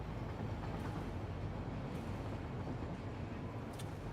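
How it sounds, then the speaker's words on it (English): A train ride in the video game Throne and Liberty, a continuous loud rumbling roll of wheels and carriage noise, steady and close throughout with no talk. "So let's take a little ride on a train."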